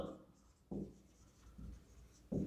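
Chalk or a marker scratches across a board in short strokes during a maths lesson on permutations. Three or four faint scrapes and taps come at an uneven pace with nothing else in the background.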